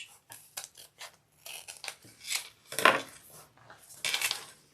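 Scissors snip and trim fabric, and a zipper, for a sewing project, with a string of short, close, crisp cuts in irregular bursts and brief rustling between them.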